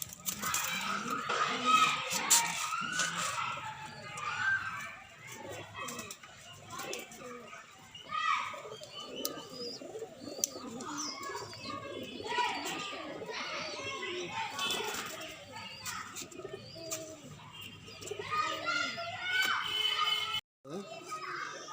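Pigeons cooing in a loft, soft repeated coos mixed with bird calls under frequent talk from men and children nearby.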